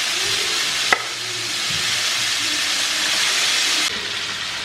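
Chicken pieces drop into hot ghee spiced with asafoetida in a pan, giving a steady loud sizzle with a sharp hit as they land, then continuous frying hiss.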